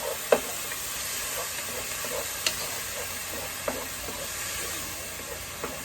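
Garlic sizzles gently in a pan, a steady soft frying hiss broken by a few faint clicks and taps of a utensil, close and without talk.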